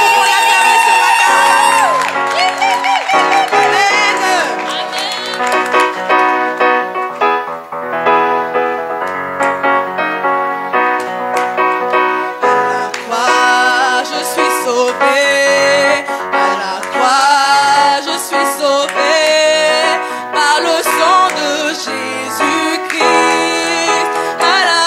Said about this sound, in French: Est-ce que nous pouvons pousser des cris de joie pour notre Seigneur?